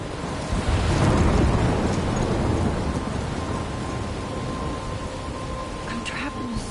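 A stormy scene from the Life is Strange video game: heavy rain pours steadily while a deep thunder rumble swells early and slowly fades, loud and close, with no voices over it.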